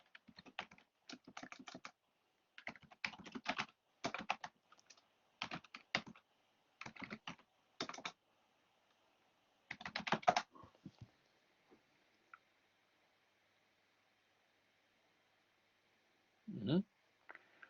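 Typing on a computer keyboard in bursts of rapid, close clicks separated by short pauses, followed by silence and one faint voice-like sound near the end.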